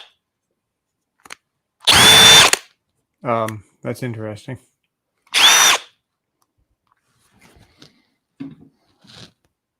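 Cordless power drills, a Dewalt and a Harbor Freight Hercules, each give short loud bursts of whirring run-up, separated by silence, with brief speech between them.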